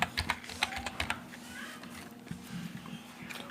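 Fingers tap a login PIN on a computer keyboard, a quick run of close, light key clicks, then a pause and a few more taps over a low steady hum.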